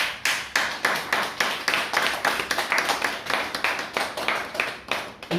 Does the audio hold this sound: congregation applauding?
yes